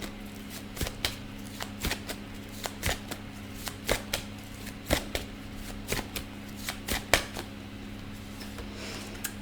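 A deck of tarot cards is shuffled close up, with crisp riffling snaps repeating roughly once a second over a steady low background hum.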